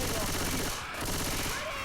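In the video game Left 4 Dead 2, rapid automatic gunfire rattles continuously at close range as survivors and bots shoot at a Tank, loud and dense with a brief dip midway.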